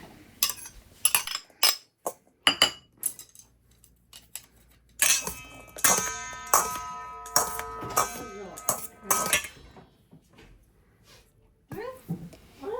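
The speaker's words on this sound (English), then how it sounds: "Now what we're going to do is we are just going to mix everything." Octopus, broccoli and edamame salad being mixed in a bowl, with irregular clinks and scrapes of utensils against dishware, loud and close, while a person talks.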